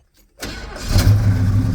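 A 1969 Pontiac Grand Prix Model J engine cranks and catches almost instantly after a brief silence, then settles into a steady, loud, close-up idle with a low rumbling exhaust and a slight exhaust leak.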